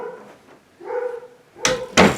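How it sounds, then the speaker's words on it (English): A dog gives a couple of sharp barks indoors after a low whine, close and loud, with the thump of a door or cupboard just before. "Dog's distracting me."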